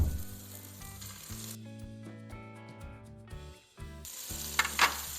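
Meatballs frying in a pan over high heat, with a steady close sizzle beneath a bed of background music and a brighter burst of spattering near the end.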